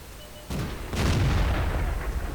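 Tank cannon fire in the World of Tanks video game: two heavy booms in quick succession, the second bigger and rolling on with a rumbling tail, loud and close with no talk.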